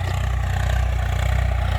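A Swaraj 855 tractor pulling a plough through soil: a steady, close diesel chug with an even low-pitched rhythmic thrum and faint mechanical clatter, alone with no voices.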